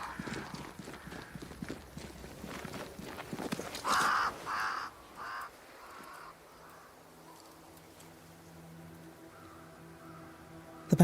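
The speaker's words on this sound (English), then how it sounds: "Crows. They flock to that great tree up there." Crows cawing in the video game Banishers: Ghosts of New Eden, a few harsh calls in a short cluster under game ambience and hoof-like clatter, then a quieter low drone.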